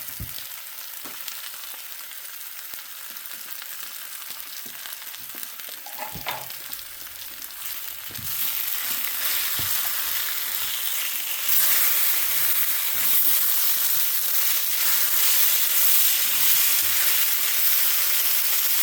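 Southern skillet potatoes with onion frying steadily in a skillet, a continuous close sizzle that grows louder and brighter partway through, with occasional stirring scrapes and no talking.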